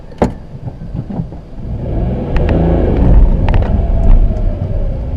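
A car engine revs hard to high RPM, then the clutch is dumped quickly and the vehicle launches, leaving a loud, sustained engine roar with low rumble and no talk.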